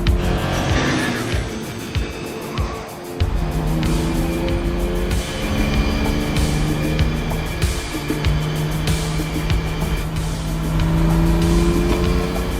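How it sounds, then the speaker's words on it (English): A Pontiac car approaching over a steady engine roar with tire squeal, sounding fast and close, with sustained engine tones building through the scene. "Pontiac's coming."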